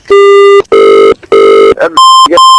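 A telephone rings loudly and close in repeated electronic bursts, the tone changing pitch partway through as a second, higher ring pattern takes over.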